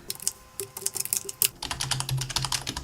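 Code typed on a computer keyboard, brisk clicking keystrokes, first sparse and spaced, then a faster, denser run of taps, close and alone with no talking.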